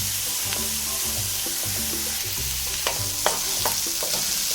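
Onion, garlic and chili sauté in a hot oiled pan, sending up a continuous close sizzle with scattered crackles and a few sharp utensil taps against the pan, and no one speaking.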